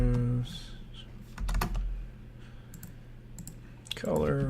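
Keys tapped on a computer keyboard while entering a Magic: The Gathering card search, quick close clicks in short clusters, with someone talking over parts of it.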